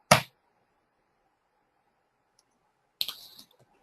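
A computer mouse clicks on a link in a web browser: one sharp, close click, then a quiet pause before a second short cluster of clicks and faint clatter, with no talking.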